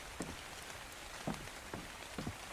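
Rain falls in ARK: Survival Evolved, a soft steady patter with a few louder drop impacts scattered through it, no talking.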